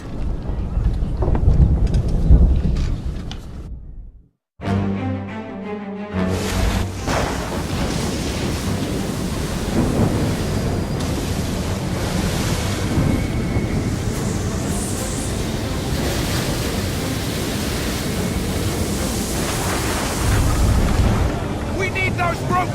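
A sea storm in Assassin's Creed III with howling wind, crashing waves and deep booming rumbles, loud and dense throughout apart from a brief cut to silence near the start, with voices speaking at the beginning.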